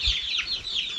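Baby chicks in a netted backyard brooder cheep and chirp continuously in high, wavering calls, close and fairly loud, with no talking.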